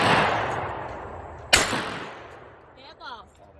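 A single shotgun blast at trap shooting practice cracks out after a decaying rumble from a previous shot, then rings away outdoors, with a brief voice afterward.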